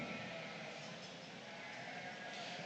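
Sheep at a junior breeding sheep show at the Ohio State Fair, bleating amid constant crowd and barn noise, with low voices underneath.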